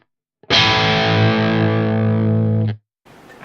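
A single sustained A note on an electric guitar, heavily distorted through an AX8 processor, rings loud and steady for about two seconds before being muted, and another sound begins just afterward.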